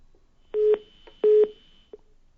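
A telephone line drops during a live phone-in news report, leaving two steady electronic beeps and a short third blip, clear and alone with no voices.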